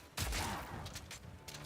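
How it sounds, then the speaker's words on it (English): A crossbow's fragmentation shot detonates frost walls in Path of Exile 2, producing a quick cluster of crackling blasts and shattering bursts in rapid succession, loud and close. "I'm gonna be using the fragmentation shot I'm using right now to detonate those frost walls."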